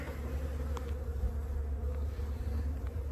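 A dense, steady hum of honeybees buzzing around a drone-laying hive, continuous and close, with a low droning bed and a few individual bees zipping past nearer the listener.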